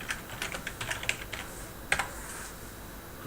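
Quick keystrokes on a computer keyboard as a page title is typed, a run of crisp close clicks in uneven bursts with a short pause and a final firm tap, no talking.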